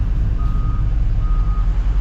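Dump truck backing up on a farm, its backup alarm sounding two long steady beeps in a row over loud low diesel engine rumble, heard close by.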